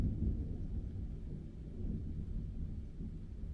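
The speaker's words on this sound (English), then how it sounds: "There's thunder." Thunder from a passing storm rolls low and steady in the distance, a continuous deep rumble with no voices over it.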